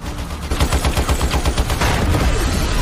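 Rapid bursts of gunfire from two killers firing at police in a film action scene, a loud run of repeated shots with a steady automatic rhythm, close and unbroken, no talk over it.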